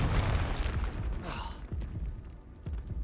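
Confringo blasting spell explosions in the video game Hogwarts Legacy: a loud opening boom and a rushing burst, then several shorter thumping impacts spread through the rest of the clip under game noise.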